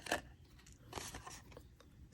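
Scissors snip through cardstock along a score line while a snowman treat box is made, giving a few close, crisp crunching cuts, one sharp at the start and another about a second later, with no talking.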